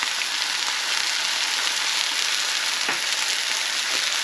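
A thin steak, seasoned with salt and white pepper, fries loudly in a pan with olive oil, giving a dense, constant close-up hiss with a few sharper spits.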